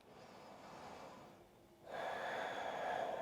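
A soft, drawn-out breath during a slow-flow yoga practice, a quiet inhale followed by a fuller, breathy exhale, close and faint, with no talking.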